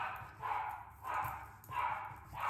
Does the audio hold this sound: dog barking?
yes